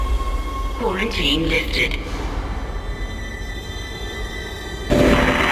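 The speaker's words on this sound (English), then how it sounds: "Tram arriving at flight deck station." A shipwide tram in the Dead Space video game pulls into the flight deck station with a low rail rumble and squeal under a brief spoken line, then a loud rushing burst near the end.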